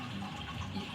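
Sparge water pouring steadily onto a grain bed during a homebrew mash in a Brewer's Edge Mash and Boil system, a soft close trickling splash.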